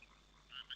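A person imitating a frog's croak: two short, nasal croaking bursts close together near the end, faint and close, with no other talk over them.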